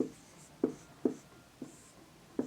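Pen writing on paper while solving a class 10 maths equation, with a steady series of short scratchy strokes at roughly half-second intervals, close and quiet, no talking.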